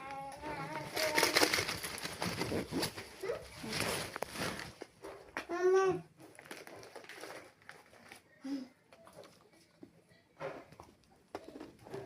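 Young child babbling and vocalizing in a bedroom, bursts of high chattering sounds coming and going over several seconds with short quiet gaps, fairly close and moderately loud.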